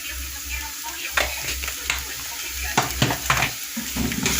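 Pizza filling seasoned with sweet paprika and oregano stirred in a frying pan: a spoon scrapes and knocks against the pan in irregular strokes over a continuous sizzle and a low hum.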